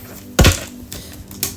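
Shuffling of a tarot card deck: a loud riffling burst near the start, then a couple of softer clacking ruffles of the stiff cards, close and with no talking.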